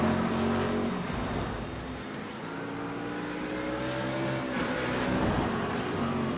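Race car engines from the iRacing sim at Spa-Francorchamps on the Kemmel Straight drone steadily with rising and falling pitch as cars pass close by, loud and continuous.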